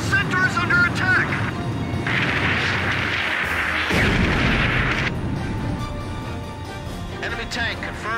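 Enemy tank gunfire in the video game Ace Combat, heavy booming blasts within a loud, continuous battle din, with voices talking over the noise.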